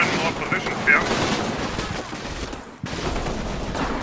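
Distant, rolling automatic gunfire from medium machine guns in the war game Combat Mission, a continuous crackling rattle that cuts off briefly before resuming.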